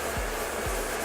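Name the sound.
hair dryer blowing while styling hair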